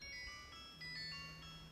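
A phone ringtone plays a short electronic melody of steady tonal notes, faint and alone against quiet room background.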